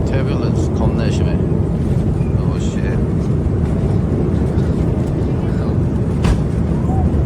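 Inside a Korean Air airplane cabin during heavy turbulence: a loud, steady, deep engine and airflow roar fills the whole stretch without letup, with faint scattered rattles and knocks on top.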